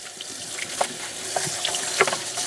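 Tap water runs steadily into a sink while parts of a Roborock Z70 robot vacuum are rinsed, with a continuous splashing hiss and a few brief clinks and splatters.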